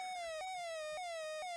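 Pac-Man siren sound effect from a Coleco handheld video game, a loud electronic tone that slides downward and then jumps back up, repeating every half second or so in a steady wailing cycle.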